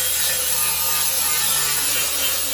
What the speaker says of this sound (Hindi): अब हमने फेंडर के जो पीस लगाए हैं इनके वेल्ड्स के ऊपर हम मारेंगे ग्राइंडर